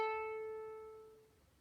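The A string of a ukulele, plucked once while tuning, rings out close and clear as a bright sustained note that slowly fades over a second and a half, with no talking.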